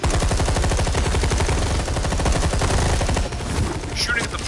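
Rapid automatic gunfire in Batman: The Telltale Series, a loud continuous burst of fast repeating shots that barely slackens before trailing off near the end.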